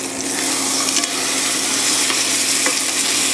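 Food fries in a hot pan until golden brown, giving a loud, steady sizzle and crackle up close, with faint scraping as it is flipped.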